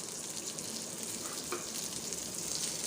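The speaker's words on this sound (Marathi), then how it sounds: "1 छोटा चम्मच जिरा आणि 3 लाल मिरच्या आणि जिरं तेलामध्ये छान परतून घ्यायचं" Cumin seeds, three red chilies and curry leaves frying in hot oil make a steady, dense sizzle that holds evenly throughout, close by, with a faint stir partway through and no voices.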